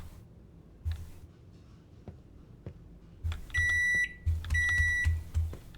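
In a video game, a microwave oven signals finished food with two series of sharp, steady electronic beeps over a low hum, with a few soft clicks and thumps before them.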